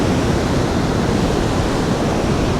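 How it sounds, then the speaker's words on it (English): Ocean surf breaking at Kata Beach in Phuket, Thailand, a surfing spot, heard as a dense, steady wash of broadband roar without distinct individual breaks, fairly loud and with no voices. "this is a big surfing area right here. Get a little bit of tide action."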